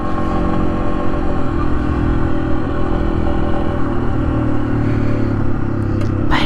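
A motorcycle rides off-road along a backcountry discovery route in the Mid-Atlantic, its engine a loud, steady drone close by with some clatter from the rough trail throughout.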